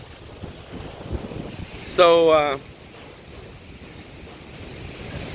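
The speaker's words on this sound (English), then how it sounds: "But the wind's still going." Wind gusts across a beach in the Philippines, a steady broad rush with a soft surf-like roar, and a brief spoken phrase partway through.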